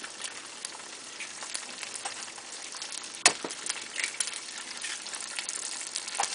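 Eggs frying in a pot for fried rice give a continuous dense sizzle with crackles and pops, and one sharp clack partway through, likely a utensil against the pot. No one speaks.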